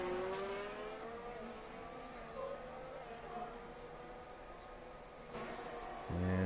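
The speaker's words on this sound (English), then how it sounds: "Looks like he's got a car coming in from behind him." Race car closing in from behind on track in an F1 video game during a San Marino GP league session, a steady engine whine with harmonic tones throughout, growing louder and lower near the end.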